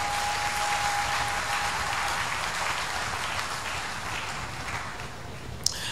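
Church congregation applauding during a fasting and prayer service, a steady wash of clapping from many hands that fades slightly toward the end.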